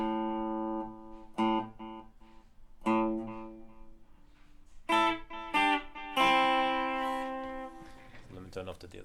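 An open A string on an electric guitar with a delay effect rings out in repeated harmonic notes, each pluck followed by decaying echoes, with several clear attacks building to a sustained tone near the end.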